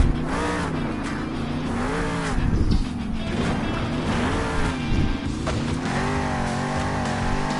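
A monster truck engine roars and revs hard during a Monster Jam arena run in Salt Lake City, loud sustained throttle with rising and falling pitch and brief surges, no talking.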